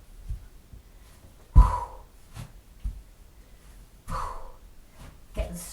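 Breath pushed out by a person holding a strong plank and stepping forward during a strength exercise, heard as a few short, close exhalation bursts and gasps spread over several seconds, with quiet pauses between them.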